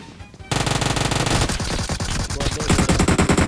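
An MK rifle fires in the PUBG Mobile video game: a loud, rapid, sustained burst of automatic shots that starts abruptly and rattles on without pause. No voices are heard.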